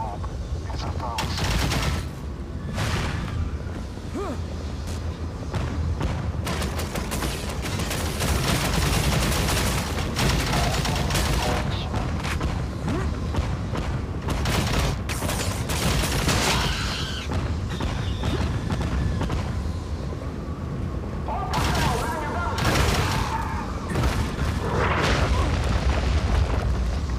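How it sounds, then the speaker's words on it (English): A disintegration gun fires in the video game Dark Void, producing dense, sustained crackling bursts and booms that continue at a loud level with brief gaps, mixed with mechanical clatter and background game noise. "Right here you'll see the disintegration gun."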